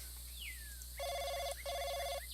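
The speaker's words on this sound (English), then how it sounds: "The phone call wakes me up." A telephone ringing indoors at night, heard as two clear electronic ring bursts in quick succession after a faint rising tone, fairly quiet and with no voices.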